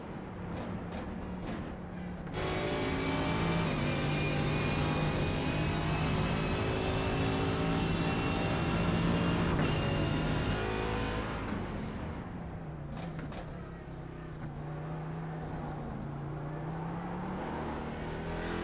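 Race cars circling the Daytona track in a racing video game, engines droning and shifting pitch steadily with a loud rise and fall, multiple cars whining past throughout without any voices.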